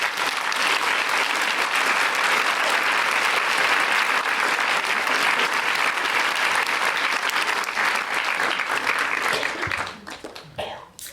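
A large audience claps and cheers in sustained applause welcoming two guests onto a stage at a talk event, loud and steady for about nine seconds before thinning out into scattered claps.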